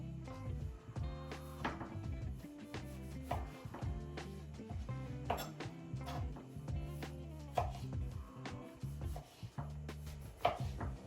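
Vegetables being diced with a Santoku knife on a cutting board, a steady run of quick knife chops and rhythmic taps, close and continuous for the whole stretch, with no talking.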